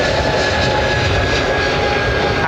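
An Emirates jet airliner lines up on runway 27 right at London Heathrow, giving off a loud, steady engine roar with a broad rumble and a faint high whine that hold at one level.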